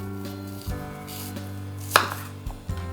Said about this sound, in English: you want to finely mince this up